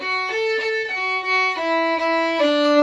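A bowed violin sustains its low open D string, repeated in several strokes over a few seconds, close and clear with no voices.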